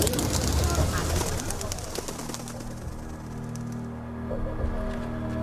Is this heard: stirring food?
no